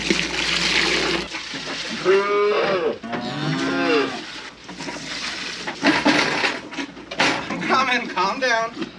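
A young calf mooing on a snowy farm, several loud close bellows and drawn-out calls in a row, mixed with wet slobbery sounds and a person talking nearby.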